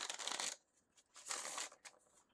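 Playing cards fly loose from a deck in several quick, crisp papery bursts of fluttering and slapping, close and fairly quiet, with no talk.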